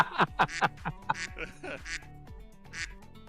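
A duck sound effect quacks in a quick series of nasal calls, several close together, then slower scattered quacks, loud and near with faint voices around it.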